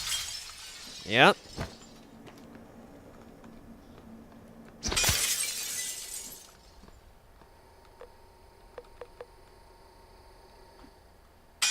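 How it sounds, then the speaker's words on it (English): Glass shatters in the game Prey, a sharp bright crash with tinkling debris trailing off over about a second, following an earlier single smaller impact; a voice speaks briefly in the clip, and small clinks follow. "Do I break the glass then?"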